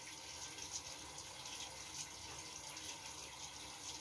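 A bathroom or sink tap runs in a steady, even hiss of water as a foam facial cleanser is wetted, a close, constant flow with no break and no voices.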